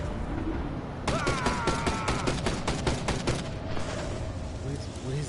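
Guards' gunfire in the stealth video game Mark of the Ninja: a rapid burst of about a dozen sharp shots in steady rhythm, fairly loud over a busy game background, then fading into ambience.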